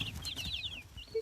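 Baby chicks, young pullets raised in the fall, peep in high, thin chirps, several overlapping calls close by against low rustling background noise.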